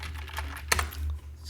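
Keys tap on a computer keyboard in VS Code, a few soft clicks followed by one sharper keystroke over a low steady hum.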